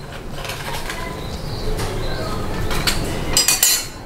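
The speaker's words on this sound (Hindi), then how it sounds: "अब मैं इसको रिमूव कर दूँ कोयले को।" Metal clinks and scrapes against a cooking pot as a burning coal is taken out of smoked minced meat, a few sharp close knocks and rattles over a steady background hiss.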